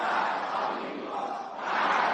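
A large crowd roars and chants together, a dense wall of many voices at steady high volume that swells again toward the end.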